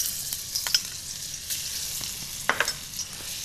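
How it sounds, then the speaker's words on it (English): Garlic sizzles and fries in a smoking hot wok over a gas flame, a constant bright hiss with occasional sharper spits and stirring scrapes, close up and loud, no talking. "I'm going to start with a little bit of garlic."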